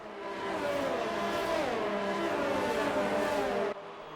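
Race car engine in F1 2019 at the Austria GP, a loud high-revving whine with gliding harmonics as the revs rise and fall, continuous for several seconds and then cutting off abruptly, with no talk over it.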